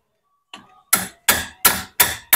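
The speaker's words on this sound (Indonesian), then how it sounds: "kita berikan sedikit benturan menggunakan apa, palu ke apa gitu ya" Hammer blows tapping a part into place in the CVT of a Honda Vario scooter: one light knock, then five loud, sharp metallic strikes in a steady rhythm, close by.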